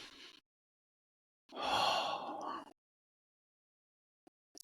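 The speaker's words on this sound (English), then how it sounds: "let's take a deep breath now" A single long, audible inhale-exhale breath taken close to the mic, bracketed by silence, with faint soft sounds trailing at the end.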